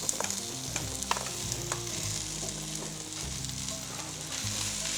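Carrots and potatoes fry for enchiladas in a crowded pan, a steady sizzle with scattered pops and scraping stirs, close and continuous.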